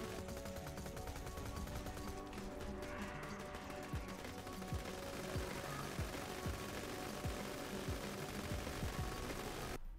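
Rapid video game gunfire while shooting at an enemy, dense repeated shots rattling continuously and loudly over a busy layered game soundtrack.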